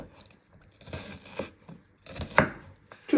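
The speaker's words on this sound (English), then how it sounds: "you just want to chop it into small medium cubes" A kitchen knife chops an onion into medium cubes on a cutting board, producing a string of crisp, irregular close-up cuts and crunches, with sharper strikes toward the end.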